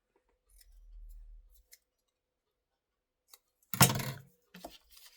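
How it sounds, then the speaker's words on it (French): Scissors snip the corners off paper for a Christmas notepad album: a soft low rustle early on, then one loud crisp cut burst followed by a couple of lighter snips, close and alone without talk. "On va couper juste les coins pour que ça rentre mieux"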